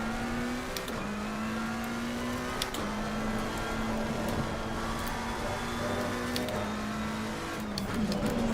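A McLaren 720S Evo race car engine in the Assetto Corsa Competizione video game, racing at Misano, drones steadily at high revs with a sustained tone and brief dips at gear shifts, heard alone and fairly close.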